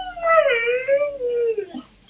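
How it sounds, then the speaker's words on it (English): A dog whines close by in one long, high, wavering cry that slides gently downward and ends in a brief whimper, with no other sound around it. "My dog is whining."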